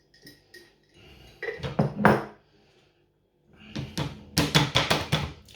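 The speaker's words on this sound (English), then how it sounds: "Just going to strain all that lovely oil into the pot that's underneath." Oil strained through a cloth into a pot for a homemade daisy salve, heard as two bursts of close clinking, scraping and pouring clatter separated by a short pause.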